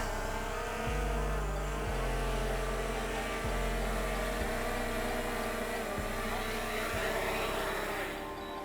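A DJI Air 2S drone hums steadily as it descends to land, a droning whine whose pitch steps down in stages, close and fairly loud, fading at the end.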